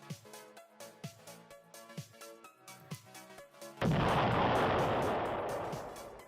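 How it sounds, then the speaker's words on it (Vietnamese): Thousands of mini gas canisters exploding at a scrapyard in Long Thành, Đồng Nai: a rhythmic string of dull booms, then a sudden loud blast that roars on and slowly fades. "Hàng ngàn bình ga mini đã phát nổ tại một bãi phế liệu ở Long Thành, Đồng Nai"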